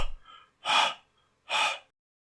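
Sharp gasps for air from a character in a horror video game cat story: a short breath at the start, then two loud, drawn-out gasping inhales separated by silence, close and alone.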